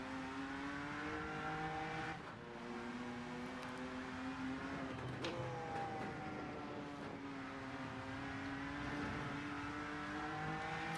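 BMW M2 race car engine in the Rennsport racing game, a steady sustained drone with harmonics that rise and fall through gear changes, heard throughout without talk.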